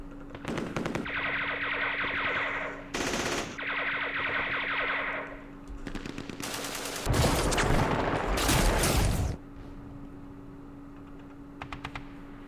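Video game machine gun fire in Campaign Series Vietnam, several sharp bursts of rattling automatic fire separated by pauses, with a sustained electronic tone and rapid clicking between volleys.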